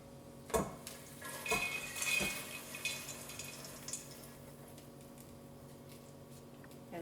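Popcorn poured from a pan into a bowl: a few sharp metallic clatters and a rustling pour at close range, then a fainter scraping that settles into quiet.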